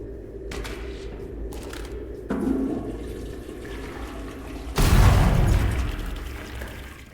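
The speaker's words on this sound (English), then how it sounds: "you haven't lived until you've tried flushing the toilet cleaner" A toilet flushes in the sci-fi shooter Selaco, starting with a few sharp clicks and clunks, then a loud rushing surge of water that slowly drains away, close up with no speech.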